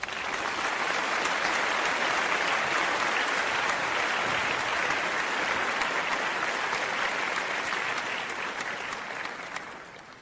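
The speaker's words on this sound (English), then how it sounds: "Let's give him some applause." Sustained applause from an audience at a gathering with Prince William and Kate Middleton, dense and steady throughout before tapering slightly at the end, with no voices standing out.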